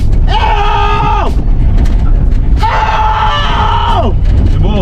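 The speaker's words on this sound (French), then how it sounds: "Y a pas à hurler comme ça." Loud, wavering screams rise in two long drawn-out bursts over a constant heavy engine rumble during the 4L Trophy 2024 rally, close and raw, with a shorter cry trailing at the end.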